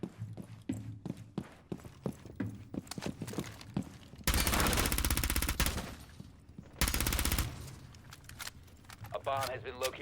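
Two long, loud bursts of automatic fire shooting through a wall in Rainbow Six Siege, each lasting a couple of seconds, set apart by quieter stretches of footsteps, clicks and brief speech.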